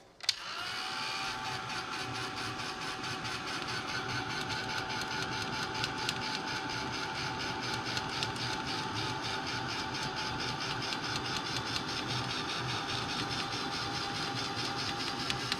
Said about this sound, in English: Why do I always shake the blooming gun? My heat tool.